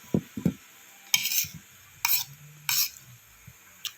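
Pork for dinuguan being stirred in rendered fat, with a utensil scraping and clinking against the pan in a few separate strokes over a faint sizzle, close and fairly quiet, no talk.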